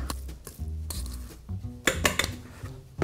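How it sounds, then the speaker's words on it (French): A fork mashes ground beef and mixes in the other ingredients for a hamburger, clinking and scraping against a bowl in irregular close taps and rubs, with no talking. "avec une fourchette, on va venir écraser notre viande et on va surtout incorporer tous les ingrédients à la viande hachée"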